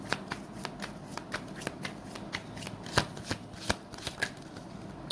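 Tarot cards being shuffled with a steady run of crisp riffling snaps and flutters, close and fairly quiet, over faint background hiss.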